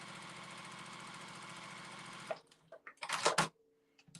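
A Juki TL18QVP sewing machine stitches a fabric scrap in a steady, fast mechanical rattle for about two seconds, then stops. Brief clicks and handling noises follow.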